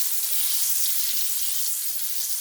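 Butter browns in a hot pan on the stove, a steady bright sizzle and crackle that holds even throughout, close and alone with no talk.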